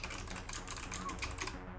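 Rapid typing on clicky mechanical switches of a Hyper 7 keyboard, a dense, even run of sharp close keystroke clicks.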